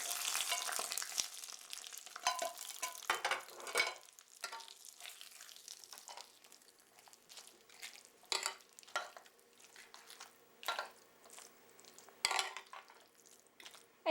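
Blackened red chili spice oil is spooned into yogurt rice, giving crackling sizzles and stirring scrapes with spoon-on-pan clinks in irregular bursts, moderately close and with no talking.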